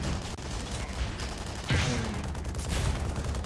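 Gunfire from a precise weapon in the sci-fi shooter game Tribes Ascend, a sharp burst cracking out of steady background game noise, followed by a second fainter shot, with no talking.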